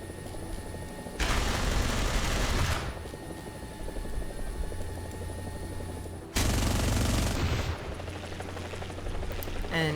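Guns fire in a video game in two loud bursts of rapid gunfire, each lasting a second or two, over a steady mechanical drone resembling a helicopter.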